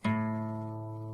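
One plucked acoustic guitar A string sounds with a clear attack and a sustained low note ringing on its own.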